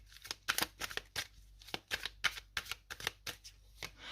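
Tarot cards are handled and laid down one after another, a quick series of crisp slaps and flicks at an irregular rhythm, close and fairly soft, with no talking over them.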